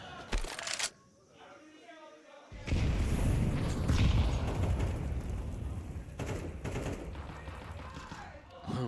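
Gunfire in a competitive Counter-Strike style shooter match, with Desert Eagle, Five-SeveN and P250 pistols and scoped rifle shots; sharp bursts sound early, then dense, loud shooting and impacts continue under a commentator's rapid talk.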